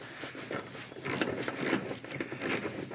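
A Kentrol hood latch being tightened and adjusted on a closed hood makes metallic clicking, grinding and ratcheting bursts in irregular clusters, close up and fairly loud, with no voices.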